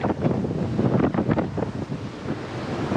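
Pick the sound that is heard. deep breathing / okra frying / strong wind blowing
strong wind blowing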